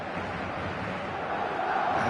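The stadium crowd in the eFootball 2025 video game gives off a dense, steady roar of cheering that swells slightly toward the end, with no clear talking over it.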